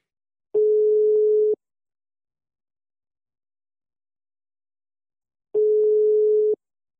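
A French telephone line rings while a call is placed, two steady one-second tones separated by about four seconds of silence, clean and alone.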